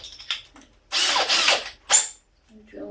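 A cordless drill with a broken speed controller whirs in uneven bursts, surging up and dropping back, with a short buzz first, then a long loud run and a brief final burst, fairly close.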